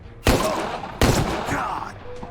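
Two sharp gunshots roughly a second apart ring out loudly in the turn-based crime strategy game Empire of Sin, each followed by a lingering echo and faint background game sounds.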